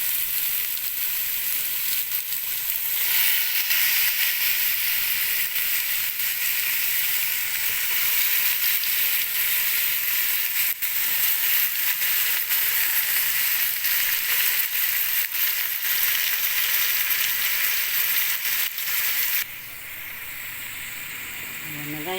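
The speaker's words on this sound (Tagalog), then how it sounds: "Ilalagay na natin ang isda. Sa ibabaw ng miso." Tuna belly laid onto sautéed miso in a pan for sinigang sa miso, a loud, dense sizzle that crackles without a break for about twenty seconds, then suddenly drops much quieter near the end.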